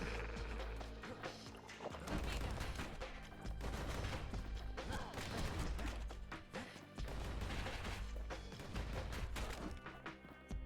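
Gunfire in the video game Bastion: enemies shoot at the player through dense, busy game audio, with rapid bursts and crashes layered over a continuous soundtrack, heard at a low level.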